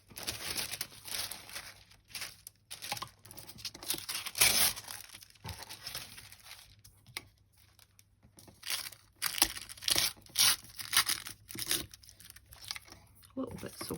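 Paper torn and crumpled while working on a mixed media journal, a series of close crinkling, rustling and ripping bursts with pauses between, under occasional quiet talk.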